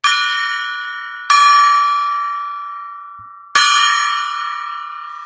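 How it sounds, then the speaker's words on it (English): A gong is struck three times, each a loud, bright metallic hit with a long shimmering ring that slowly fades before the next strike, with no voices. "I'm going to ring the gong because you guys showed up for me"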